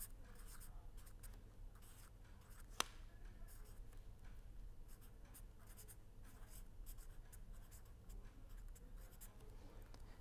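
Chalk or marker scratching steadily across a board in a lecture on calculus, a continuous soft scraping with one sharp tap partway through, close and clear with no talking.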